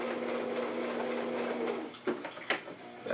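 Sewing machine stitching a handmade bag, a steady mechanical whir for about two seconds, then stopping, followed by a few short clicks and handling noises.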